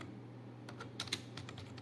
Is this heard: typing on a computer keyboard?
yes